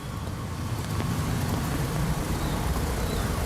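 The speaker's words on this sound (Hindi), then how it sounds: "ट्रैफिक कितनी ज़्यादा है" Busy road traffic heard while walking beside the roadway, a continuous close roar of passing cars and heavier vehicles with a broad wind-like wash, loud and steady with no talking.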